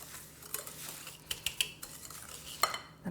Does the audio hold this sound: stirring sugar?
yes